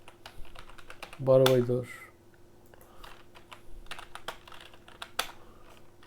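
Sparse, quiet clicks of a computer keyboard being typed on in a room, with a short vocal sound and murmured speech breaking in partway through.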